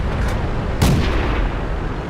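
An SU-5 self-propelled gun fires its 152mm howitzer in the World of Tanks game, one heavy booming shot over a dense, rumbling battle background.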